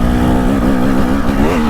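Off-road motorcycle engine, a 2025 dirt bike during back-to-back test riding, holds a loud, steady drone with a strong harmonic whine that wavers slightly as the throttle shifts, close and continuous throughout.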